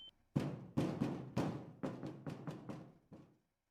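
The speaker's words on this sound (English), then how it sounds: "I started slamming the doors as panic took hold." Doors slammed again and again in panic by someone trapped inside: seven heavy, close thuds in a quick, uneven run, each ringing out briefly before the next.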